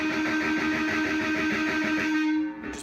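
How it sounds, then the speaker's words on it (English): A distorted electric guitar sounds a muted harmonic at the fifth fret from a song: a sustained, buzzing tone with a bright overtone, steady for a few seconds before cutting off abruptly. "you're just going to barely touch it so that you can kind of mute it, but also get that harmonic tone"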